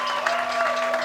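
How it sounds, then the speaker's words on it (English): Audience clapping at the Audiofeed festival during a comedy set, a brief steady wash of applause throughout, with a constant tonal hum underneath. "So thank you so much for the applause."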